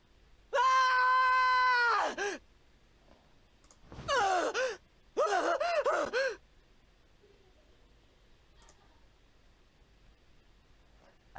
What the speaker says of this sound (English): I jump up from the bed and start screaming.